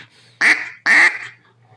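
A Jargon live duck call blown by hand to imitate a duck, giving two loud, close, raspy quacks spaced about half a second apart against a quiet background.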